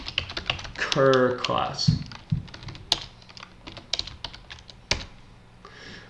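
Rapid keyboard typing while someone writes code for a Unity class system, clattering keystrokes in bursts with a short spoken word partway through.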